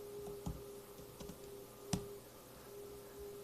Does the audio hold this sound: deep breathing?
no